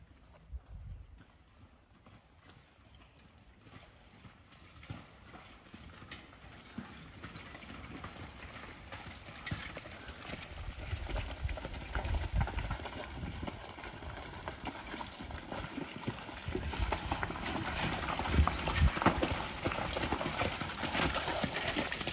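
Hooves of a team of draft horses clip-clopping steadily on a hard surface, a continuous rhythmic patter that grows gradually louder as they come closer, with low background noise.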